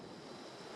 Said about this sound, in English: Some big waves coming in, splashing up and possibly knocking the tripod